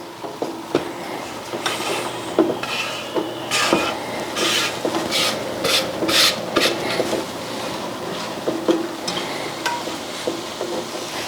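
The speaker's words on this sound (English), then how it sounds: "we're gonna be putting the oysters mushrooms in the pan" Oyster mushrooms go into a hot pan for a vegan pozole, giving a steady sizzle with scraping and stirring bursts and occasional clicks of a utensil against the pan, close and fairly loud.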